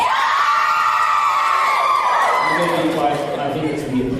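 A KupoCon convention audience screams and whoops in loud response, a dense crowd roar that holds for a couple of seconds before thinning into chatter and a voice talking over the fading noise.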